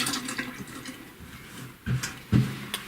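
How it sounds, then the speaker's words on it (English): Tap water runs into a sink as a finger is rinsed off, a soft uneven splashing with a few louder gushes near the end. "Wash my finger off."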